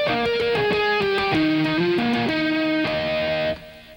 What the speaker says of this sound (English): If you tap on the string 12 frets away from wherever you're fretting, you get a sound